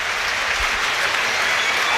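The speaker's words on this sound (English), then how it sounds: "You hear the crowd in here willing their team to go forward and get that equaliser." Football crowd at a Premier League match between Sunderland and Arsenal, roaring and cheering in a dense, continuous wall of noise that stays loud and even throughout.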